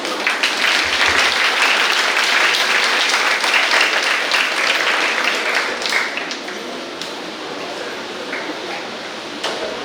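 An audience applauds the school principal at a Christmas program, steady loud clapping that fills the whole stretch and eases slightly toward the end, with no voices over it.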